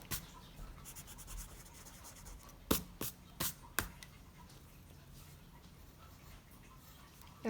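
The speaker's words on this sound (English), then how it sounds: "You can erase the forehead lines if they're still showing." A pencil scratches and rubs across paper while sketching a portrait, with a few sharp taps and erasing strokes clustered together, quiet and close.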